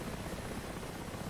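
A Mi-8 Russian transport helicopter in the DCS flight simulator, a steady broadband rotor-and-engine rumble heard from a distance, fairly faint and unbroken, with no voices.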